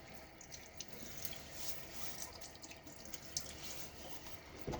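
A bathroom tap runs warm water into a sink to wet a face before shaving, a steady soft stream with small splashes and drips, fairly quiet and continuous with no one speaking.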